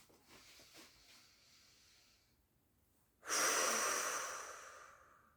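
A slow, audible breath as a calming exercise: a quiet drawn inhale followed by a long, strong exhale that fades away, close up and alone.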